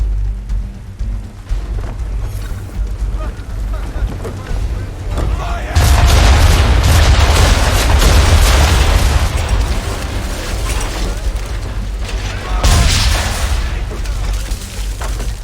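Powder barrels blow up under swivel gun fire in Assassin's Creed III, giving loud, heavy booms with a long rolling rumble, two big blasts standing out over a constant din of battle.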